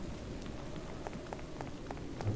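Steady rain in Minecraft patters continuously with a dense hiss, scattered sharper drops ticking through it at an even level, no voices, calm and moderately close.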